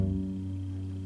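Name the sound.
bass playing the note F sharp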